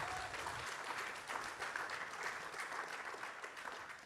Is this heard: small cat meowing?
no